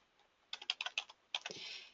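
Keystrokes on a computer keyboard come in two quick, close bursts of sharp clicks separated by a short pause, quiet and alone with no voices.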